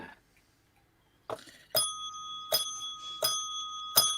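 A small bell, like a bicycle bell, is struck once for each of four finished birthday cakes after a faint knock, giving four bright rings at an uneven pace, each with a ringing tail, close and alone.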